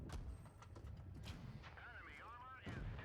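Tank cannon fire and battle noise from World of Tanks Blitz, with a T26E3 Eagle 7 in play: dense rumbling booms and engine drone, plus a warbling whine in the middle. A voice talks over it.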